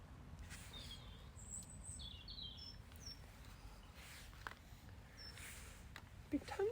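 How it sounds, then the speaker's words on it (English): Several faint, high bird calls and chirps drift in from a distance outdoors, a few brief whistled phrases scattered over a steady low background rumble. "Been tons of really chill bird song today"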